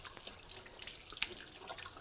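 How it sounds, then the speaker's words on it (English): A kitchen tap runs steadily into a sink during handwashing, giving a continuous fairly quiet splashing stream with a small drip-like spike partway through. "we're going to get started first by washing our hands and putting on an apron"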